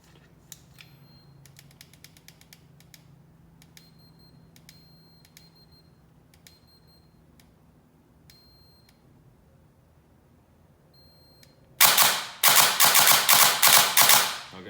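A T238 V1.6 gel blaster with a MOSFET installed, faint mechanical clicks and ticks of trigger pulls, then a loud burst of rapid repeated firing near the end.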